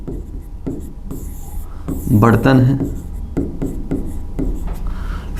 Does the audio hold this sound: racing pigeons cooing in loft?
no